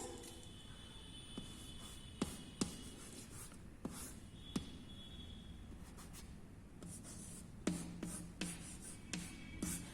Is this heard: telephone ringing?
no